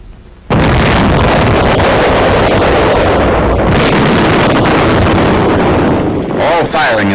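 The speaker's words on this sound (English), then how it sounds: "the gunner pushes the firing button." A US Army 914mm mortar fires with a sudden, very loud blast that swells into a sustained heavy roar and rumble lasting several seconds, faintly overlaid by a narrating voice.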